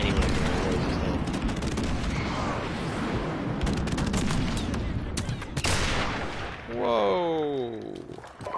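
Dense gunfire and explosions in an online match of Call of Duty: Modern Warfare Remastered, with a player using the R700 sniper rifle amid a constant loud barrage of shots and booms.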